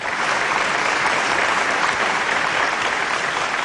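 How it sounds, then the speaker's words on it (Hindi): An audience breaks into dense, sustained applause at a Hindi poetry gathering, with steady clapping filling the whole stretch at even loudness and no voices standing out. "सुन के भी ताली क्यों न बजाए।"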